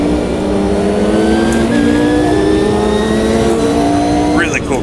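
A Mercedes GT1 race car engine at Spa in the racing sim AMS2, a loud, steady high-revving drone with rising and shifting pitch, close and continuous, with a voice talking over it.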